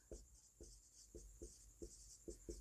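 Pen or pencil strokes scratch across paper in a steady series of about seven short bursts, quiet and close, with no voices over them.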